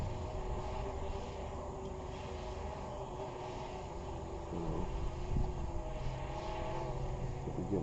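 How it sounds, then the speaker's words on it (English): Steady, buzzing propeller whine of a camera drone flying above trees at a scenic overlook in Honey Creek, Iowa, holding a constant drone with light wind, and a brief spoken word near the start. "drone can go up to 400 feet, way taller than this tower"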